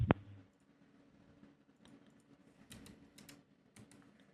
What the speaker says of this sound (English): type at the open space, type CMD